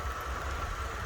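A 2015 Dacia Sandero Stepway Laureate with a TCE 0.9 petrol engine idles smoothly and quietly, a steady low hum with a faint high whine, close by and alone with no talk.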